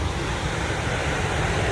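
Montmorency Falls in Quebec City roaring up close, a loud, constant broadband rush of falling water with wind buffeting, unbroken throughout.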